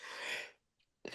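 A single sharp sneeze bursts out loud and close, followed by a short quiet pause and the first breath of another vocal sound.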